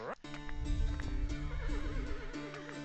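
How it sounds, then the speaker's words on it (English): Horses neigh and whinny on a medieval-themed TV show inside the Bloxburg video game, with hooves clip-clopping beneath and a voice talking over the loud, wavering calls. "Wow, my favorite show. Medieval horses."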